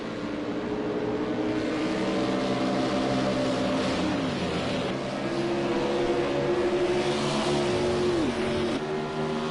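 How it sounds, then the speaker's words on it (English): A Raymond Michael Green racing car engine screams at high revs around a track, a steady loud drone with shifting pitch and a brief dip as it changes gear, with no voices. "That's a Raymond Michael Green racing car, and she sure is fast."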